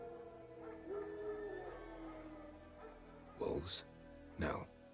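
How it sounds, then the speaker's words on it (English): Wild dogs in the horror game Little Nightmares II howl faintly in the distance with drawn-out wavering cries, under steady ambient game noise, and a couple of sharp bursts follow near the end. "Wild dogs."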